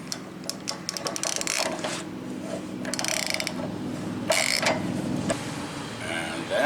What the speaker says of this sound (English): we'll tighten it up with the ratchet